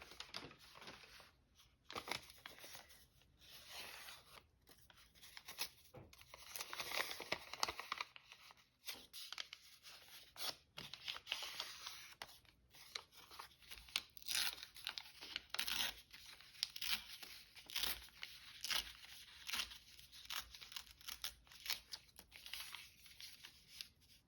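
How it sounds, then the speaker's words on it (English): Paper being torn and crumpled by hand for a junk journal, a long run of close, quiet ripping and crinkling bursts in an irregular rhythm, with no talking. "we need to be a little bit more careful about how we rip that"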